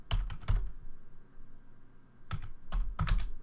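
Keystrokes on a computer keyboard while entering a password at a Linux command prompt, in two quick bursts of clicky taps separated by a pause, close and fairly quiet.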